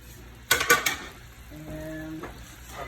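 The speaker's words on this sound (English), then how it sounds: "now we're going to take all our exciting proteins like the shrimp and get them in the pan" Shrimp, andouille sausage and bacon for shrimp and grits hit a medium-high pan with a few loud clattering drops, then settle into a steady sizzle alongside a brief, faint tonal hum.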